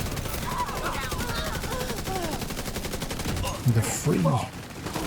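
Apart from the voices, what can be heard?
gunfire in a video game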